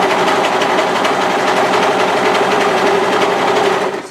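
An overlocker sewing machine finishes a fabric edge on a pair of bib overalls, whirring loudly and continuously with a rapid buzzing stitch rhythm, then slowing at the very end.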